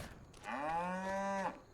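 Cattle mooing on a farm map in Farming Simulator, built in Giants Editor: a single long, close moo that rises, then holds steady with a rich harmonic tone for about a second before cutting off.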